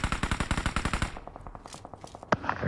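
Rapid automatic gunfire in PUBG Mobile rattles off in a fast, even burst of sharp shots. It tails into a sparser run of quieter shots and then a single louder crack near the end.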